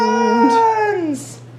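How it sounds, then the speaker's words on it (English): A cat lets out a loud, drawn-out, wavering meow that bends downward in pitch, heard close and alone over a steady low hum. "the cat's going crazy over there"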